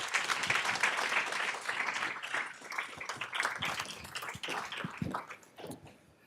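An audience bursts into applause welcoming two speakers to the stage at a keynote conversation, steady dense clapping filling the room for several seconds before tapering off toward the end.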